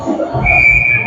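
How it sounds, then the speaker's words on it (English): A referee's whistle sounds during a youth 14U ice hockey game, a steady high tone about half a second long over muffled rink noise and crowd murmur. "And we're going to get a whistle."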